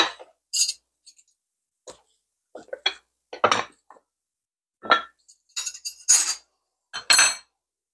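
Knives and forks clink and rattle as they are picked up and handled in a home kitchen, a run of short, bright metallic taps and chinks spaced irregularly with quiet gaps between, close and fairly loud.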